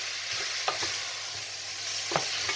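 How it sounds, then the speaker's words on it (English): Chopped onions softening in a frying pan for a lamb curry stew, with a steady sizzle and a few sharp scrapes and clinks of stirring, close and clear with no talk. "And then I'll put in the chopped onions. I'll soften them up. Let them cook out a little bit."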